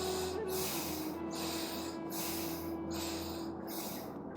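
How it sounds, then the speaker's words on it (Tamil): During a yoga breathing exercise for joint pain, slow breaths in and out pass close to a microphone as soft rhythmic hissing airflow swelling and fading in regular cycles over a steady low hum. "மெதுவாக மூச்சை உள்ளெழுத்து மெதுவாக மூச்சை வெளியிடுங்க"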